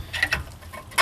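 A 2003-2007 Honda Accord rear wheel hub knocking against the backing plate dust shield, producing a few short, close metallic clunks and rattles with quiet pauses between them.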